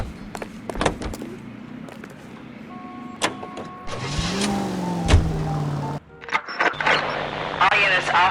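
A car engine driving along in the game L.A. Noire, hum and revving with mechanical clicks and thumps, later a rising engine whine, partly under talk and radio chatter.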